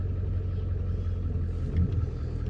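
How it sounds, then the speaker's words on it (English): A truck rolls past outdoors, a steady low rumble of engine and tyres, moderately close and continuous throughout, with no talk. "There's a truck coming."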